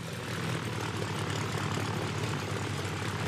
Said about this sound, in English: Look at that plane.